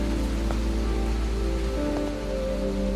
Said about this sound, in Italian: E poi la pioggia, incessante, ossessiva